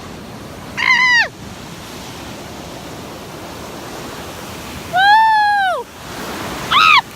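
Ocean waves at the beach wash in a continuous, close hiss of surf, while a voice lets out a few sharp whoops and cries of surprise over the water.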